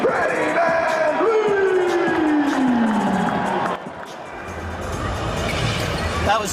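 A crowd at a Toronto Raptors team practice cheers and calls out while Fred VanVleet is introduced, with an announcer's voice rising over the noise before the cheering fades into a steady murmur.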